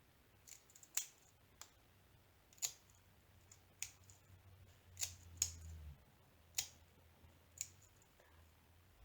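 Scissors snip through small plastic diamond painting bags, about eight crisp, close cuts spaced roughly a second apart against a quiet room, with no talking.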